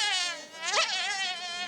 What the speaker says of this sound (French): nous allons parler de la femelle moustique